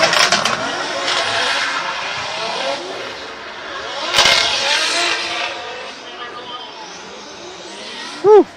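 A Formula Drift car throttles through a drift zone, its engine roaring and sweeping in pitch as it passes, while a commentator talks over it. A short sharp burst comes near the end.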